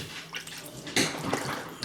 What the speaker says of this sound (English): Let's rinse my hand off.